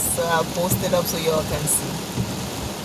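Heavy, steady torrential rain drums on a car while driving, a constant wash of noise beneath someone talking throughout.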